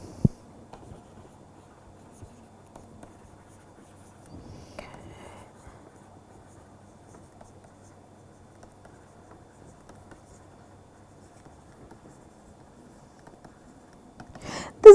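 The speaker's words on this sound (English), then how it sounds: "let us just write that" Marker or chalk scratching and tapping on a board during a turbulence lecture, faint intermittent strokes with soft rubbing, mostly alone in a quiet room with a brief louder burst at the end.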